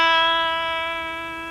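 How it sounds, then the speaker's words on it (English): A single sustained E note rings out on an Ibanez PGM 700 electric guitar. It is a clean, steady tone with rich overtones that decays slowly over about a second and a half, with no other sounds. "I'm going to give you a special note here on the fabulous Ibanez PGM 700 guitar"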